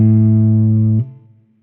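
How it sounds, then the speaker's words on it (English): A single low note on an electric guitar's open A string rings steadily, then is abruptly muted after about a second, leaving a faint buzzing decay. "open A string."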